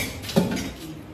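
Dishes and glasses clatter briefly as they are handled for washing at a resort, one sharp clink standing out amid a faint background clatter.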